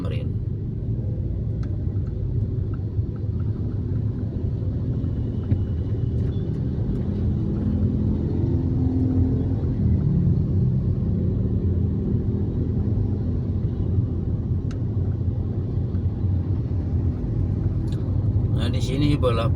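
Dense car traffic leaving a toll road and turning left in Jakarta makes a steady low engine rumble throughout, with a voice speaking over the traffic.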